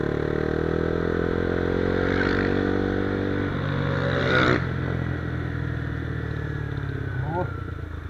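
A minibike motorcycle ridden on an early-morning road trip, its engine holding a steady, close, droning hum with shifting pitch, wind rushing over it, and a brief scrape partway through; a rider's voice is heard as well.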